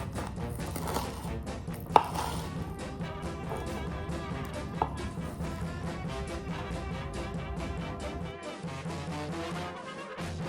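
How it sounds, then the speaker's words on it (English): A knife cuts through a cheese-filled, breaded Karadjordjeva schnitzel of rolled meat and cheese, with steady crunchy chopping and scraping for several seconds and a sharp clink partway through. "I'm gonna cut into the original Karageorjeva, the same one that Maiden would have had that one night, just meat and cheese"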